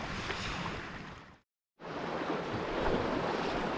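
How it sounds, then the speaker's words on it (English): Rushing wash of water churned up by a passing ferry, a broad steady surge of surf-like noise with wind buffeting, broken by a brief cut to silence before the wash resumes, slightly louder toward the end. "Here's the wash from the ferry."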